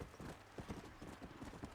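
Galloping horse hooves in the video game Red Dead Redemption: Undead Nightmare, a quick, steady clip-clop rhythm of hoofbeats at moderate distance, fairly faint, with a low game soundscape underneath.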